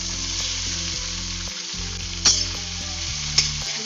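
Tomato fries in hot oil in a kadai with a constant close sizzle, broken by a couple of sharp spatula scrapes against the pan.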